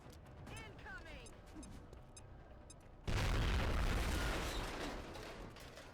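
A grenade blast in the XCOM video game booms loud and broad after a stretch of gunfire and background game noise, then slowly fades with a lingering rumble.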